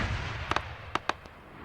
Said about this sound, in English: now we've got our AA firing